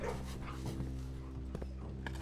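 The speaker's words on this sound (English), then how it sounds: "We have to pet the puppies." Puppies in the game Blue Prince pant softly and steadily up close, with a faint whimper and a few small thumps over a low hum.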